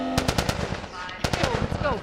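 Rapid automatic gunfire bursts in The Last of Us Remastered, a quick string of sharp cracks, a pause, then another tight burst, loud and close, with a shouted voice in the mix.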